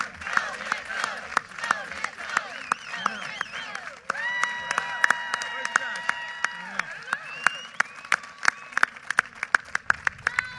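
Family members cheer and applaud at Mitt Romney's presidential campaign announcement, with sharp hand claps cracking over a sustained crowd roar, shouts and bright whistles, loud and close, continuing for several seconds.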